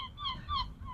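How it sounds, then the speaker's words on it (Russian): Seagulls crying outdoors in Galway, Ireland: a few harsh, wavering calls in quick succession, moderately near over a low background rumble. "Чайки кричат."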